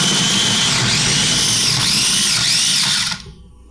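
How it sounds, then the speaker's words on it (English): A food processor whirs loudly as it minces garlic cloves, its motor holding a high, steady whine with slight pitch dips, then stopping sharply after about three seconds. "first I'm going to process this garlic"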